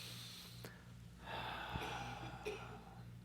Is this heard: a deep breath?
yes